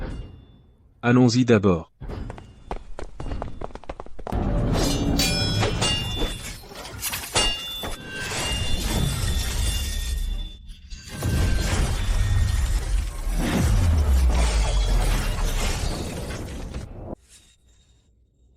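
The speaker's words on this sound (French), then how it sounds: "ce bruit pas discret on dirait un combat de boxe" Thudding blows and crashing impacts from a fight sounding like a boxing match in a horror video game, loud repeated hits and shattering bursts that run for several seconds, with someone talking briefly early on.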